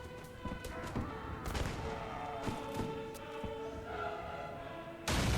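Massed musket volleys crackle in a Mount & Blade: Warband Napoleonic battle at night, a dense, continuous din of overlapping shots and thuds with scattered sharper reports, ending in a louder burst.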